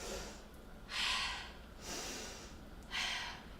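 Loud breathing during a Pilates workout with weights, three forceful, airy exhales in a slow, regular rhythm, each a breathy rush close to the ear with quieter inhales between.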